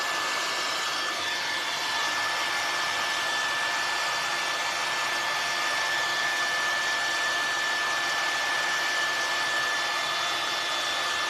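A hair dryer runs continuously for about eleven seconds, blowing on freshly painted craft work, a steady close whooshing roar with a faint high whine and no talking.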